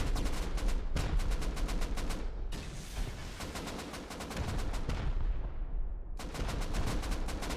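Rapid bursts of gunfire and rocket blasts in a 9v9 Rust base-raiding tournament match, dense and loud throughout, with brief gaps between volleys.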